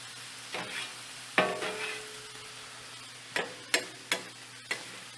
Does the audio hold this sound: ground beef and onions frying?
yes